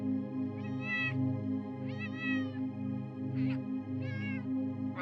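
A cat meows four times in a slow, evenly spaced series, each call drawn out and wavering, playing back quietly over a steady low hum.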